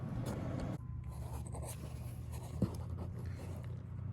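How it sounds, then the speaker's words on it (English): A Sharpie marker draws a line on a metal bracket for a Jeep JK engine swap, giving a faint scratchy squeak of felt tip on metal amid quiet shop room tone and a small knock midway. "with your Sharpie just mark a line there"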